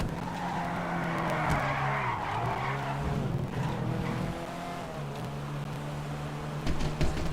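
Car engine revving and tires skidding in the video game GTA 5, a steady loud engine drone with long squealing slides throughout, with no talking.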